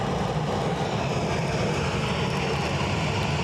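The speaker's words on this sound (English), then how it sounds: "So the plane on shot, off to Rome" An airliner departing Edinburgh Airport for Rome on a wet day roars steadily and loudly throughout, a dense, unbroken engine rumble with no talking.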